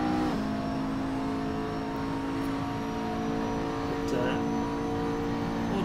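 Nissan race car engines in a sim racing game drone and rise together as the cars pull away, forming a steady, dense mechanical roar with no talking over it.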